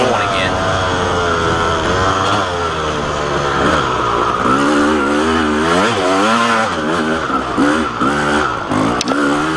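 A dirt bike engine races through mud, revving hard and continuously with rapid pitch swings as the throttle works up and down, loud and close throughout.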